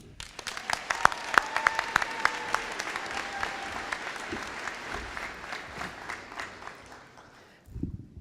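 Audience applause at a university presidential inauguration ceremony, a dense burst of clapping from a large crowd that swells quickly, holds steady for several seconds and then fades out, with no voices over it.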